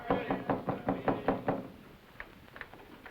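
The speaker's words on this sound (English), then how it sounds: "Somebody at the door." Knuckles rap on a door, a quick series of about seven close, firm knocks followed by a few softer, scattered raps.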